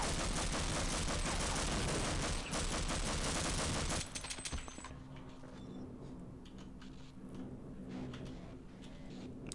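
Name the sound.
gunfire during HECU soldier combat in video game Half-Life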